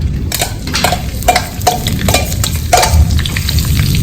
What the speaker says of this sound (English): I've got 3 chopped onions, sliced onions, that goes in